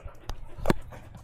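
A shop dog whimpers and pants nearby, with a couple of short breathy whines and soft huffs over a low background hum.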